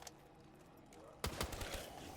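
Fireworks effect in Black Ops 3 Zombies, a sudden burst of loud crackling, popping bangs that starts abruptly partway through after a quiet stretch, with several sharp reports in quick succession.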